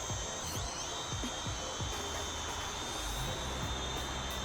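A small Uranhub UF500 drone flies over a farm in midday light, its steady high-pitched motor whine continuous and fairly close, with faint low thumps beneath and no talk.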